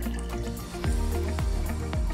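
Water poured into a 100 mL graduated cylinder in a lab setting, with a short trickling fill and several brief dripping, plinking splashes, close and moderately loud, no voices.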